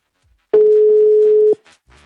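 Steady telephone tone on an outgoing call placed live from a radio station's call room, a single continuous one-second beep standing clear and fairly loud, with brief faint noises after it.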